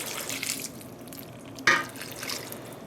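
Eight cups of warm water mixed with two tablespoons of white vinegar are poured over yarn in a dyepot, giving a soft wet splashing that swells briefly with a sharper slosh near the end.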